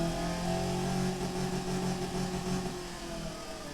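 A 1985-era car engine in the Automation game runs loudly and continuously, a throbbing mid-pitched drone with steady harmonics that eases off slightly toward the end, no voices over it.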